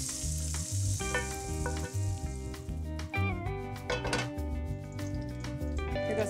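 Bacon fat left in a pan after the bacon is removed sizzles steadily, with metallic clinks and scrapes of utensils against the pan over a low rhythmic music bed.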